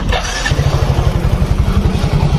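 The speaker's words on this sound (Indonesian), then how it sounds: "Motor menyala, guys." A Yamaha Mio motorcycle engine is started with its electric starter. A brief starter whir comes first, then the engine catches into a steady, close, loud rapid putter.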